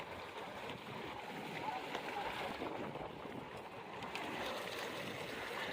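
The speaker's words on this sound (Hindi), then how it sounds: "दो जहाज़ निकल रहे हैं" Two boats head out on smooth water at Ibrahim Hyderi fish market in Karachi, a faint steady engine hum and water wash with wind over the microphone.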